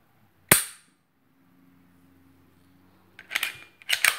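Crisp click of a CZ P10 C pistol trigger breaking, a single sharp snap near the mic, followed after a pause by a couple of lighter mechanical clicks as the trigger resets.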